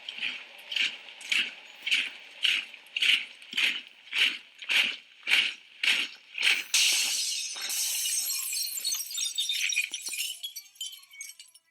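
Smashing shop windows, a loud crash of breaking glass followed by scattering shards and tinkling, preceded by a steady rhythmic series of marching-like beats.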